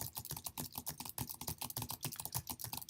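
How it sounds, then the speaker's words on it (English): Steady, rapid typing on a computer keyboard while a software overview is written, with dense clusters of close, crisp key clicks and no pauses or voices. "Typing in my overview."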